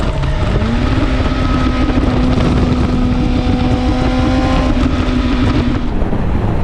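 A motorcycle on a UK ride out, its engine droning steadily and loud with a sustained tone that rises slightly early on, blended with heavy wind rush over the microphone throughout.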